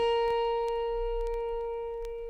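A single plucked autoharp G sharp string rings out with a clear, sustained tone that slowly fades, with faint clicks in the background.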